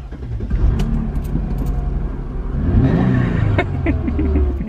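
Car driving along with a steady engine rumble and road noise, close and loud, the engine rising in pitch partway through as it speeds up.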